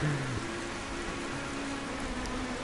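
Steady rain hisses in a racing video game at Snetterton, a dense, even wash of falling drops with a faint low engine tone running beneath.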